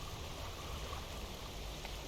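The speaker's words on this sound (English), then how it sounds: "A water spout, as it were." A water spout churning at sea in the fishing video game Dredge, a steady rushing, roaring wash of water noise with no clear breaks, fairly faint and alone.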